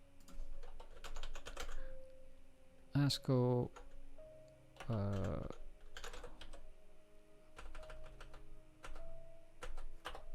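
Bursts of clicky computer keyboard typing, close and fairly quiet, alternating with a man's speech.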